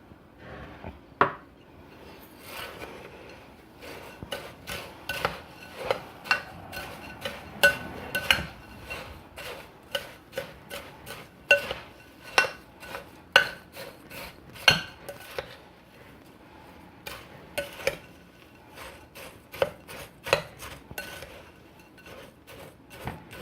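Pie crust of sugar and melted butter being mixed in a bowl, with repeated sharp clinks and taps of a utensil against the dish in an uneven rhythm over quiet background.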